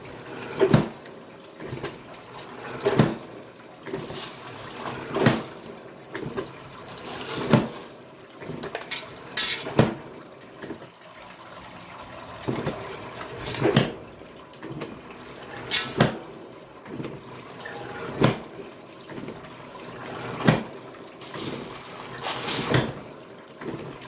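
A linear actuator electromagnetic stamp mill crushes ore in water, sharp thuds repeating roughly every second or two over a steady wet trickle and splash, moderately loud and close.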